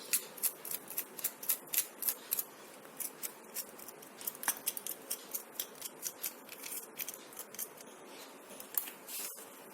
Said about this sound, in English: And cut this wick right at the edge.